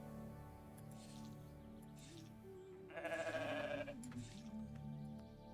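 A goat bleats in the video game The Stillness of the Wind, a wavering harmonic cry rising for about a second midway over a steady game soundtrack, with no talk.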